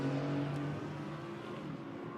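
A GT4 race car at Zandvoort powering out of a corner, its engine a steady droning note with a slight rise in pitch, fairly loud and continuous, no commentary heard.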